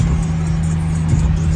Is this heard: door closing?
no